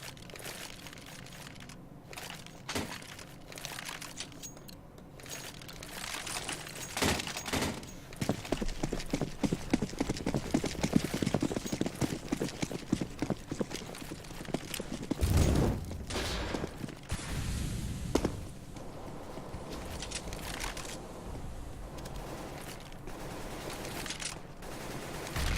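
Rapid gunfire from CS:GO on the Cache map, wall bang shots cracking in quick bursts and sprays, fairly loud with scattered single shots before and after the densest volley.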